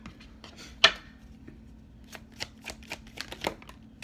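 Tarot cards being shuffled, with a sharp slapping riffle near the start followed by a series of quick, light card flicks and snaps as cards slip out of the deck, close and crisp without talk.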